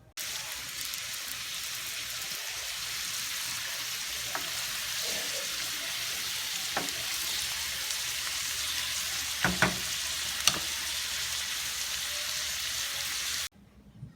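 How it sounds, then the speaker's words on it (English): Pesto chicken cooking in a pan gives a steady, close, even sizzle and crackle throughout, with a few soft utensil clicks, before it cuts off abruptly near the end. "So now we're just going to go ahead and give it a cook for about 5 to 7 minutes"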